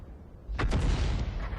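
The Sturmpanzer II fires a round at a Marder in a video game, a single loud booming report that lands abruptly after a quiet lead-in and then rumbles and decays.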